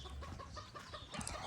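A pet duck calls from its pen on a homestead during chores, a steady run of nasal, clucking fowl cries that stay fairly near and moderately loud throughout.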